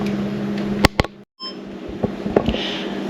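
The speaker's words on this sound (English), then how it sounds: "I'm going to set it for 50 minutes on pressure cook" An electric pressure cooker beeps as it is set for 50 minutes on pressure cook for beans, two quick beeps then a few fainter ones over a steady background hum with a short silent gap.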